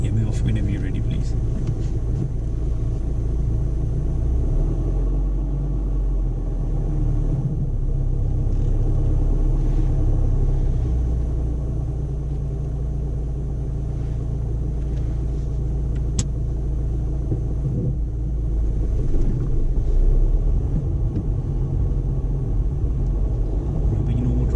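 A learner's car pulls away during a driving lesson, its engine a constant low rumble and road roar heard from inside the cabin, loud and steady throughout.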